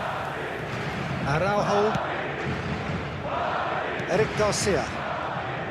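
Stadium crowd noise in the football video game eFootball 2027 during a Real Madrid vs Barcelona match, a constant roar that swells in two loud bursts, under a commentator talking.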